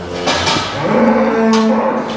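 Pregnant dairy heifers moo loudly and close on a farm, with one long drawn-out low call rising over a background of other animal noise.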